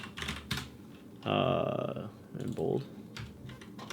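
Keys clatter on a computer keyboard in short, moderately close bursts of rapid typing, heard under and between a man's speech.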